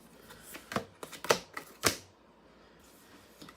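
Oracle cards are handled and laid down: a few sharp, close clicks and flicks in quick succession, then quiet.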